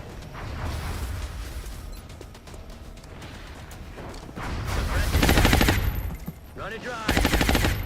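Suppressive gunfire in XCOM Long War on Impossible difficulty: sustained automatic bursts rattle in rapid rhythm, growing louder and denser toward the end amid other battle clatter, moderately close.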